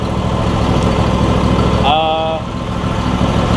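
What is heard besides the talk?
Briggs and Stratton engine running on John Deere E140 lawn tractor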